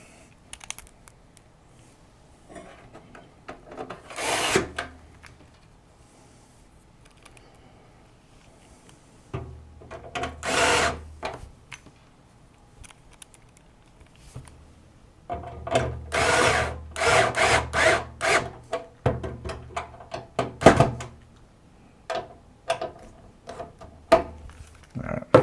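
A manual screwdriver drives screws through a motherboard into a PC case during a customer computer build, giving intermittent scraping, clicking bursts of turning with people talking in between.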